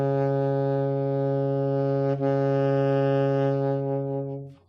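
A saxophone sounds its lowest note, low B flat, as one loud, steady, buzzy tone held for about four seconds with a brief wobble midway, then fading out, played alone.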